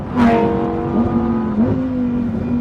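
A Lamborghini Huracán EVO RWD engine drones loud and close on a bumpy road, pitch rising and dipping slightly as the car drives on, with a brief whoosh near the start.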